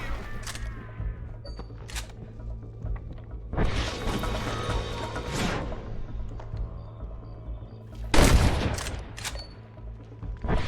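Gunfire in the Red Dead Redemption video game on PS3: several sharp shots and longer bursts of firing scattered through the scene, loud and close over a steady background hum, with no talking.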